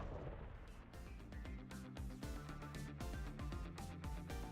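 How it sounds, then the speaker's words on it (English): Explosions in a video game, a dense run of deep booms and sharp bursts rolling one after another over several seconds, faint and distant within the mix, with no talk. "I think I heard an explosion somewhere."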